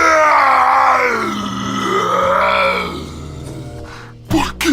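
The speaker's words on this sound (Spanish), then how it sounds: "Dando un alarido, gritó" A dramatized scream of a possessed man during a Bible reading: a loud, drawn-out, wavering cry of anguish that slowly fades, then ends in a short sharp outburst.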